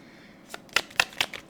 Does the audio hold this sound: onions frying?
no